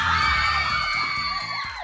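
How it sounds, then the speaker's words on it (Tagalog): A studio audience of fans shrieks and cheers loudly and continuously for a celebrity guest on a Filipino game show, high squeals layered over crowd noise, with no one talking. "May mga tumitili para sa'yo."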